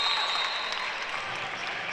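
Student crowd at a boys high school basketball game, Madison Southern vs Sayre, cheering and applauding after a made free throw; a dense, steady roar of claps and shouts from a packed section.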